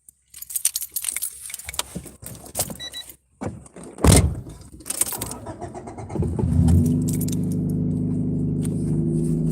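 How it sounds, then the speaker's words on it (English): Car keys jangle in a quick metallic clatter before the vehicle is started, followed by a low, steady engine hum settling in after the ignition. "There's my keys."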